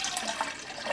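Water swishing and splashing as colours are mixed into it, a continuous close liquid wash with small bright splashy accents.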